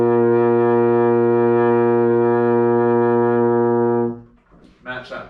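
Baritone horn holding a single sustained B flat, a steady, full, close tone lasting about four seconds before stopping, followed by a brief voice.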